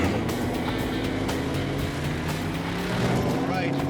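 A car speeds off, its engine droning loudly and steadily with road rumble throughout, while people talk over the noise.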